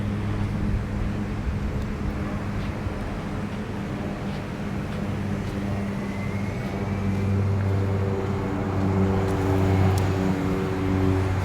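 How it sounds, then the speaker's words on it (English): A plane taking off from Ogle Airport in Guyana, heard as a steady, broad roar that swells gradually and stays continuous beside a highway, with low engine drone and no talking. "That's a plane taking off from Ogle Airport."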